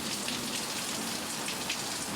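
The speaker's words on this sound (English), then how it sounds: "Rain just slowed down" Steady rain falls on surfaces, a dense, even hiss of drops that stays loud and unbroken from start to finish, with no voices.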